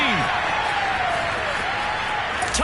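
A video game football crowd in Madden roars and cheers after a Panthers touchdown, a dense continuous wash of noise with whistle-like streaks and a commentator's voice over it.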